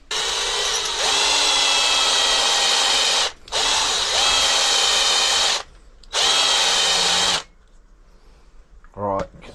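Power drill bit boring into material on a garage bench, running in three loud sustained bursts of a few seconds each with brief pauses between, close up, followed by a short clatter.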